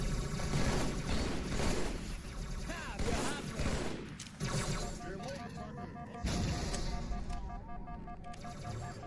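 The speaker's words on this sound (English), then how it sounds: "Stop shooting at me" Rapid bursts of automatic gunfire from Halo 2 crackle densely and fairly loudly in layered, overlapping volleys, with brief pauses between barrages.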